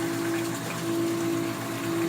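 Water from a 75-gallon reef aquarium overflowing and dropping down into a filtration sump on the floor, a steady close rush with a constant pump-like hum and no pauses.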